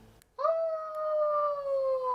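A pet dog named Haru howls along in a room, a single sustained, wavering tonal cry that follows a short quiet lead-in and stays loud and close.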